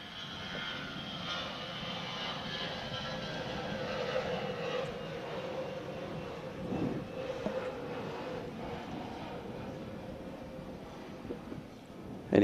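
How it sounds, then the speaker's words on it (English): An EVA Air jet takes off from Songshan airport in Taipei, its engines a sustained broadband roar that stays steady and moderately distant throughout, with no talk over it. "An EVA Air jet taking off from the Songshan airport"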